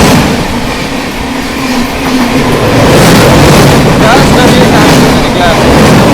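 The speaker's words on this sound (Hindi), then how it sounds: "कटिहार से चलकर अमृतसर को जाने वाली कटिहार अमृतसर अमरपाली एक्सप्रेस के साथ क्रॉसिंग हो रही है दोस्तों।" Katihar–Amritsar Amrapali Express thundering by on the neighbouring line during a crossing, a loud continuous rumble and rattle of wagons that swells slightly and holds steady throughout, close and dominant.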